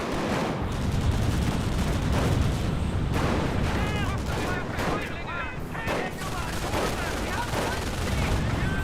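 Rifle grenades and gunfire in the World War II strategy game Company of Heroes: dense volleys of rifle and machine-gun shots with heavy explosive booms, rolling continuously and loudly, with a voice talking underneath.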